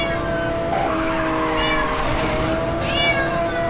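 A cat meows loudly and insistently at close range in a continuous drawn-out yowl that rises and falls, with no voices over it.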